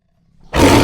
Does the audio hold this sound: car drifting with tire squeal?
no